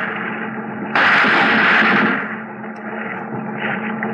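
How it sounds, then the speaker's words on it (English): Warning gunshots fired in front of a man in an old-time radio detective drama set around Manila, a sudden loud crackling burst of fire lasting about a second, then a rumbling tail, with no voices. "We fire in front of him."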